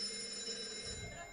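A telephone rings with a sustained electronic tone held steadily, fairly quiet, fading slightly toward the end with a faint murmur beneath.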